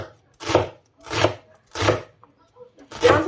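A knife dices onion on a cutting board for a home-cooked egg dish: four firm, evenly spaced chopping bursts, close and clear, with no talk.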